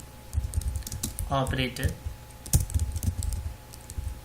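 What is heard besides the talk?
typing C code on a computer keyboard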